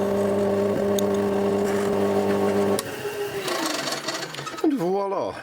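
A lathe drills out a hole in a metal part so a key will fit, with a steady mechanical hum for a few seconds that winds down as the machine slows and stops, then some handling noise.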